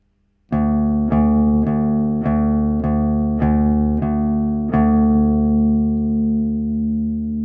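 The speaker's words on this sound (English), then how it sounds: "we're playing this note 8 times" A single bass guitar note on the third string at the 5th fret, plucked eight times in a steady rhythm, each attack ringing into the next with a long sustain at the end, close and clear with no talk.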